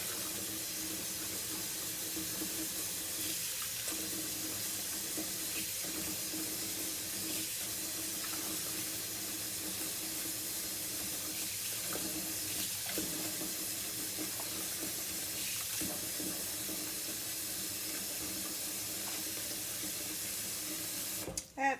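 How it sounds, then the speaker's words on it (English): Water runs steadily from a tap into a kitchen sink being used to bathe an avatar baby, a continuous even hiss and splash lasting throughout, with a brief clatter at the very end. "I don't have a baby bathtub, so I'm using my kitchen sink here."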